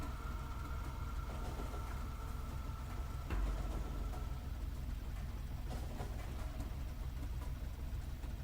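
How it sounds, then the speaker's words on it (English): Train rolling along a rail line in Factorio, a steady low rumble with engine-like hum sustained throughout, one brief thump midway, no talking. "I want to ride the train."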